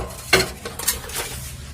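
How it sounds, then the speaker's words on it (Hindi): Dishes and utensils clatter while being washed in a home kitchen, with a few sharp metallic clinks and knocks in quick irregular succession over a low running background. "और ये सुबह से मैं दोपहर तक तो 3 से 4 बार बर्तन कर लेती हूँ"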